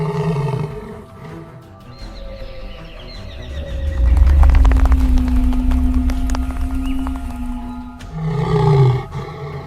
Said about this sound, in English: The king roars a terrifying, deep warning.